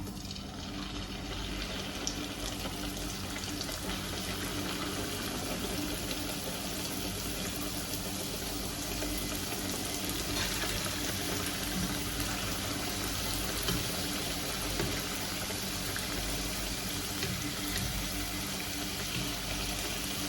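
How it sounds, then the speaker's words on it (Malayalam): Sweet samosas deep frying one by one in hot oil in a wok, a steady dense sizzle and bubbling that holds at an even level throughout with no talking. "ഇപ്പം നമ്മുടെ ചീനച്ചട്ടിയിൽ എണ്ണ കാഞ്ഞിട്ടുണ്ട്. ഇനി അതിലേക്ക് നമ്മൾ ഓരോന്നായിട്ട് എടുത്ത് കേട്ടോ."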